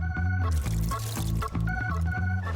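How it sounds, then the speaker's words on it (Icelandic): Water being poured into a rubber dinosaur toy as it fills like a balloon, giving a close, loud gurgling pour with bubbling tones that shift in pitch over a couple of seconds. "nú ætla ég að fylla þig með vatni"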